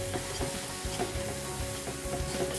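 Chopped tomatoes and green chilies cook in a pan for an Indian dal, giving a steady close sizzle with small pops and crackles throughout.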